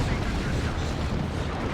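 A Baneblade super-heavy tank fires its cannons and heavy bolters in a Warhammer 40k Dawn of War 2 battle, a dense continuous roar of booming gunfire and explosions, loud and sustained.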